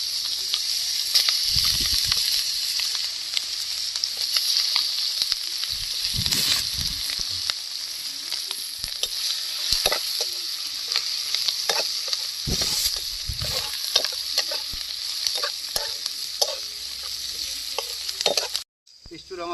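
Spice paste fries hard in a pan for a fish curry, with a loud continuous sizzle and hiss and scattered stirring knocks throughout, then a sudden drop near the end.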